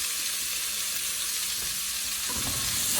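Carrots sizzle in olive oil in a pan, a steady close frying hiss that swells louder near the end as they are stirred in, with no talk.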